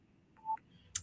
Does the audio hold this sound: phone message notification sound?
yes